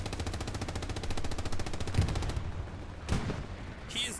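Gunfire in Hell Let Loose on Omaha Beach, with rapid machine-gun bursts rattling steadily for over two seconds and then a couple of heavier single blasts, near and loud throughout.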